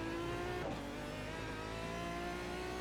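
Race car engine droning steadily at the Nordschleife in a racing game, a sustained near engine tone with a brief lift and shift in pitch, no voices.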